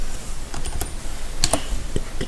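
Keys on a computer keyboard tap out a short, uneven burst of crisp clicks at close range, with a quick cluster in the middle, while a word is typed into a game modding tool.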